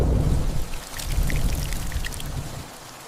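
Spring rain generated by Veo 3 from a text prompt falls steadily in a dense hiss, with scattered sharper droplet taps over a low rumbling bed before it eases toward the end.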